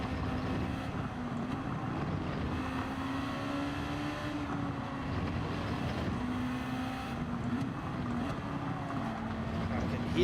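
A rival's race car in Gran Turismo 7 sits close behind, its engine a steady droning hum with a slowly wavering pitch, continuous and fairly loud throughout.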